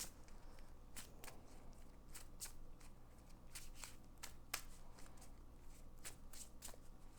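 A deck of game cards for the Marvel Champions card game being shuffled up close: quick, crisp riffle bursts repeat in an uneven rhythm over a low steady hum, with no talk.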